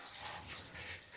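Water poured onto soil substrate in a tarantula enclosure, a faint, steady trickling splash running the whole brief moment without pause.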